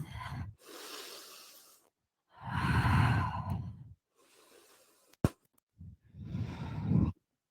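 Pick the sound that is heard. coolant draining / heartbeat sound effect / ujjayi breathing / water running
ujjayi breathing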